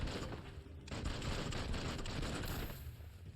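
Automatic gunfire from a player's gun in the action game Biomutant, a dense continuous burst of rapid shots lasting a few seconds, loud and close with a roaring, crackling texture throughout.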